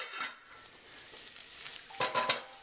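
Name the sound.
rice and onions sauteing in oil in a pan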